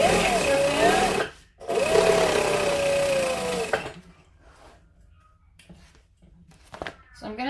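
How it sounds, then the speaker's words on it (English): Home sewing machine stitching through vinyl fabric reinforced with fusible interfacing, running in a steady close whirring burst, pausing briefly, then running again before stopping into quiet background. "So I'm going to stitch both sides on, and then I'm going to do the top stitching."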